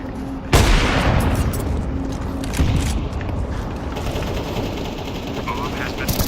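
A grenade blast in Counter-Strike 2 gameplay bursts out loud and close, then rolls into sustained rumbling and rattling gunfire, with a voice talking over it.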